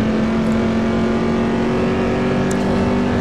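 Chevrolet Corvette C6 GT2 race car engines roaring in a racing video game at Imola, a loud sustained steady drone with a strong tonal hum and no breaks.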